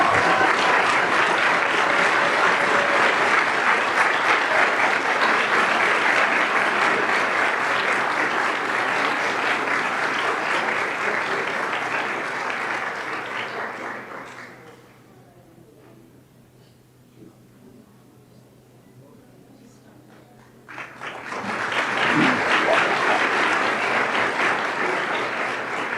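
Sustained audience applause at a Board of Education meeting congratulating the Teacher of the Year. Loud, steady clapping fills the room, fades into quiet for several seconds, then swells up again.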